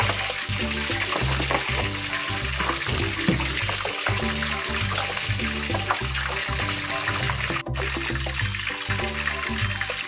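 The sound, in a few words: pork leg (crispy pata) deep-frying in covered pan of oil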